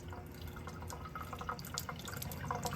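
A thin stream of cool tap water runs steadily over peeled eggs held in a small strainer in a kitchen sink, a faint continuous trickle with light splashes and drips.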